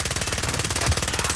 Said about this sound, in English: I'm gonna cluster strike the guy right here.